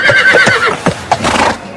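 A horse in an animated show gives a loud, shrill neigh followed by quick hoofbeats, close up with no talk over it.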